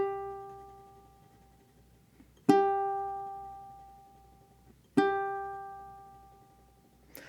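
A ukulele G note with slow, subtle vibrato, plucked twice about two and a half seconds apart, each pluck ringing out sweet and sustained before decaying, with no other sound.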